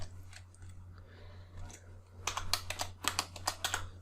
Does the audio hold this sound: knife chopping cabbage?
no